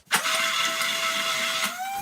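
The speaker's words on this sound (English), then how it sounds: "get your hand mixer, if you've got one, and blitz it until it's just as smooth as you like" A hand mixer whirs steadily, blitzing barbecue sauce in the kitchen, a continuous high electric motor whine starting abruptly and running for about two seconds.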